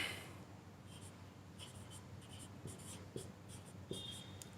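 Chalk or marker scratches across a board in short strokes and taps, soft and fairly close, against a quiet room background.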